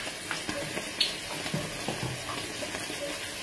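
Tap water runs into a container in a home kitchen, a soft, fairly quiet stream with light splashes and small knocks scattered through it.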